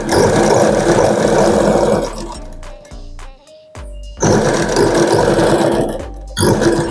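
A sewing machine stitching the lining fabric of an aari-work blouse, a loud close whirring run that pauses for about two seconds with a few clicks, then starts again and runs steadily.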